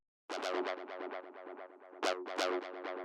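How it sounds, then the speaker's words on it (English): A 303-style acid synth line repeats F sharp in quick, evenly spaced plucky notes with a squelchy, resonant filtered tone that brightens and sweeps, playing alone and fairly faint. "the next thing we have here is the 303"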